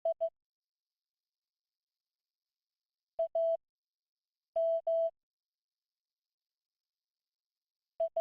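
Short electronic beeps in the video game 98xx, single and paired tones in a sparse Morse-like pattern separated by long silent gaps, clear and isolated with no talking.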